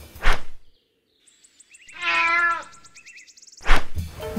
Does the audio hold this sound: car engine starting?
no